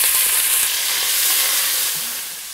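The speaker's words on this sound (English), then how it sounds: "we're gonna saute up our 2 pork chops" Two pork chops sauté in sesame oil on an electric stove, giving a loud, steady sizzle with a bright crackling hiss up close that eases slightly toward the end, without any voices.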